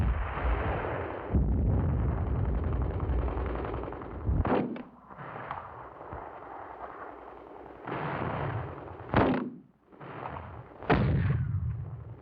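Mortar and artillery fire in wartime combat: heavy booming blasts and rumbling roars at close range, broken by several sharp individual detonations spaced a few seconds apart.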